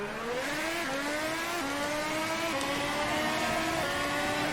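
Red Bull X2010 race car in a racing video game launching from a standing start, its high-revving engine screaming upward through quick successive gear shifts, loud and continuous with no voices.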